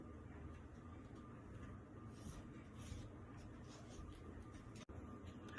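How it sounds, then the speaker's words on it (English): Steady scratchy rubbing of a pen or marker ruling a slanted line across dress-pattern paper or fabric, continuous and close, with a brief silent break near the end. "I'll just rule a slant line to the bottom of the dress"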